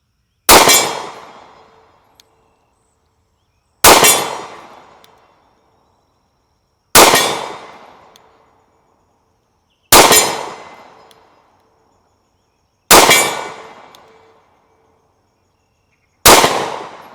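Six single shots from a Mossberg MC1sc compact concealed-carry pistol fired at targets 40 yards away: loud, sharp cracks spaced about three seconds apart, each followed by a short decaying echo, with silence between shots.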